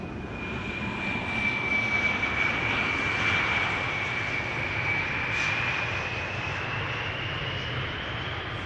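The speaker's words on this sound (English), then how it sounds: "KLM flight 948, just now landing here" KLM flight 948, a fixed-wing airliner, landing at Amsterdam Schiphol Airport with a steady, sustained engine roar and a high whine that slowly shifts in pitch, heard from a distance with no talk.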